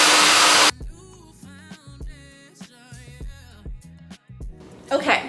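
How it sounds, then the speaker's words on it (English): A hair dryer blow-drying 3c curly hair roars loudly for under a second and then cuts off, leaving someone speaking. "And then we can start blow drying it side to side"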